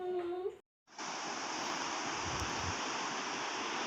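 River water rushing steadily over a flood-destroyed road in the Koh Suleman mountains, a loud continuous roar close by, starting just after a brief voice that cuts off.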